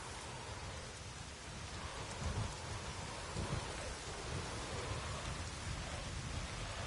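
Heavy rain and thunder in a storm in The Witcher 3, a constant roar of rainfall with low rumbles swelling midway, steady and fairly close.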